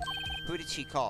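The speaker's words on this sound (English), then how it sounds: "I heard a phone ring just now, one of those newfangled ringtones" A modern ringtone trills in a short run of repeated electronic beeps in the Phoenix Wright: Ace Attorney video game, with a voice speaking over it right after.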